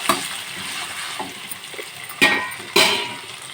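Prawns fry in oil in a kadai on a gas stove, sizzling steadily up close. A spoon stirs them with scraping and clinks, and two sharper metallic knocks land near the end. No one speaks.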